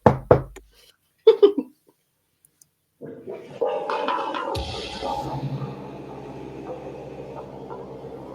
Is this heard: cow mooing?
no